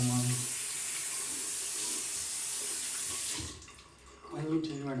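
Water runs steadily from a water-saving sink tap as a broad hiss, then cuts off near the end, with faint sounds of movement afterward.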